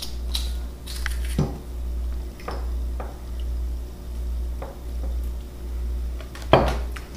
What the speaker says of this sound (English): I also have 1 clove of fresh garlic that I'm going to just press right into there